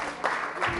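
A church audience applauds during a sermon, with brief bursts of clapping and crowd noise rising twice in quick succession, fairly faint and set against a murmuring room.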